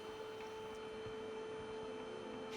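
A vacuum cleaner running in the video game 007: First Light, a steady electric drone with a constant tonal hum and faint clicks, heard alone without speech.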